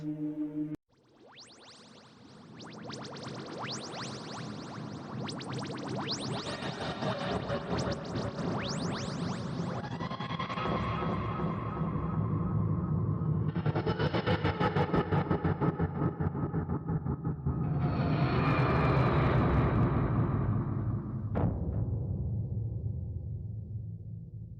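Grinding, wheezing mechanical roar of the TARDIS making a rough landing in a Doctor Who fan audio drama, rising in several surging waves over about twenty seconds before cutting off with a thud.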